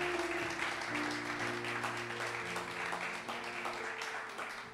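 Congregation at a French-speaking church service bursts into applause, a dense, steady clapping from many people that fades slightly toward the end, with faint voices mixed in.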